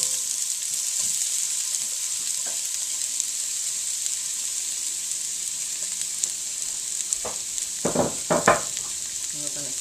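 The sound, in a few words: potatoes sizzling in pan with hot olive oil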